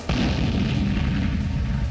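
A deep boom of an explosion in Beirut starts sharply and then rolls on as a heavy, sustained low rumble.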